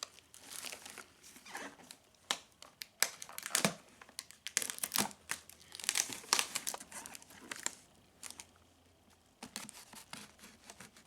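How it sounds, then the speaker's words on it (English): A knife slicing through packing tape on a cardboard box, repeated close crinkling and tearing scrapes with rustling of the box in between. "We'll use a knife on this one just because it's clearly just tape."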